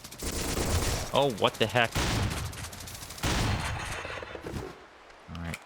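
Rapid bursts of gunfire from a first-person shooter video game, several dense volleys of shots and impacts, with someone talking over the action.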